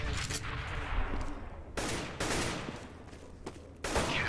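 Rifle fire from an AK during a competitive Counter-Strike-style match at a Dreamhack qualifier, several sharp loud shots and short bursts over a dense continuous game din.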